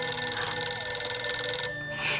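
A telephone rings with a steady, sustained electronic bell tone, fairly close and alone, cutting off near the end with a short quieter trill.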